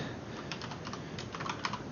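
Computer keyboard typing while writing Unity code, a quick run of light, close key clicks with an irregular rhythm, growing slightly busier toward the end, with no talking.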